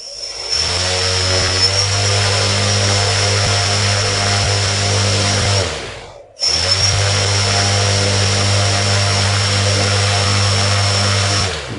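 The motors of an Arduino-built bicopter drone, controlled by a joystick, spin up with a loud, steady, high-pitched whine. The sound cuts out briefly partway through and then resumes at full strength, close by, with no voices.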